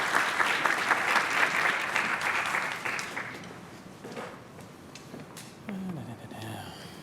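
An audience at an Arizona-Mexico energy forum applauds the panelists in a dense, sustained clatter of clapping that fades after about three seconds, then talk follows.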